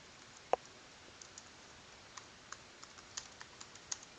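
Sparse keystrokes on a computer keyboard while a comment is entered into a web form, the clicks faint and scattered with irregular gaps, one sharper tap standing out early, over quiet room hiss.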